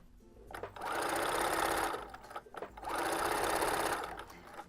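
A sewing machine stitching color-block pants, running in two long steady whirring bursts with brief pauses between them, close and loud.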